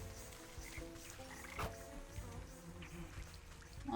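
A frog croaks in the Wytchwood video game, low throaty pulses under a constant buzzing ambience with a brief sharp click midway.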